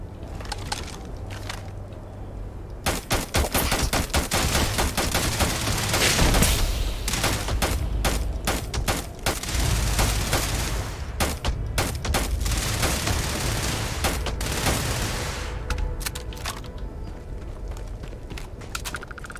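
Gunfire from a weapon in Starfield, rapid bursts of loud sharp shots running almost continuously, with short pauses between volleys and no talk.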